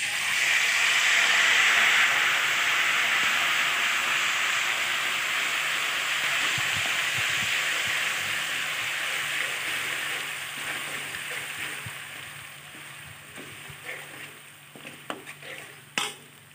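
Chilies fry in hot oil with a loud hissing sizzle that gradually fades over several seconds, leaving quieter crackles and a few soft clinks near the end.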